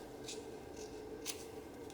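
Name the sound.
scissors trimming paper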